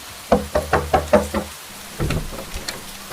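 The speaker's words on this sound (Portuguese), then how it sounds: "alguém logo cedo bate à minha porta" Six firm knocks on a door land in a quick, even series, close and loud, then give way to a softer patch of muffled rustling with rain-like noise beneath.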